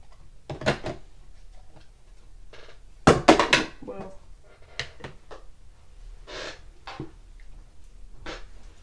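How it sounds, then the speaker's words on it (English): A Ranger dye ink bottle lid drops and clatters on the floor, a sharp cluster of knocks near the middle amid other scattered handling thumps and clicks, with faint talk in the background. "I just threw Lavender Field on the floor. At least it was just the lid, not the ink."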